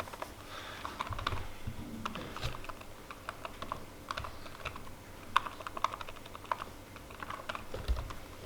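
Fingers typing code on a computer keyboard, an irregular run of close, crisp key clicks with bursts and short pauses over a faint background hum, with no talking.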